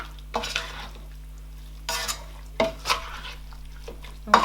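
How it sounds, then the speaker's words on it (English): Okra soup scooped from a pot onto a plate: a few separate spoon scrapes and clinks against cookware, close and moderately loud, with quiet gaps and a low steady hum beneath. "I'm going to scoop and put in the plate"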